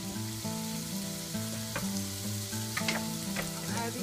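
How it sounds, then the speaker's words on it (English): Garlic frying in a pan with onions for Saudi kabsah, a steady close sizzle with a low tonal hum underneath and a few light clinks of a spoon stirring, no talking. "Now I'm gonna add 1 spoon of garlic"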